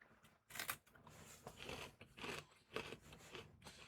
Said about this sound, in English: Can you all hear me chewing?